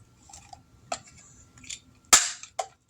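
A plastic clip snaps into place on a Transformers Legacy Evolution Guardian Sentinel toy, with several small clicks and handling taps leading up to one sharp, loud snap and a lighter click after it, close up in a quiet room.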